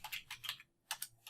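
Someone types on a computer keyboard close by, with quick bursts of soft clicking keystrokes, a brief pause, then a few more taps.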